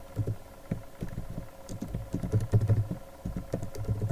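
Keyboard typing on a computer while a store name is entered on an e-commerce site, a quick run of close, fairly soft key clicks in irregular bursts with no talking.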